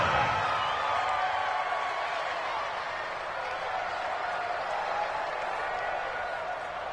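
Steady stadium crowd noise with applause and cheering fills a PS4 American football video game during a Chargers drive, a dense continuous roar at even loudness with no breaks.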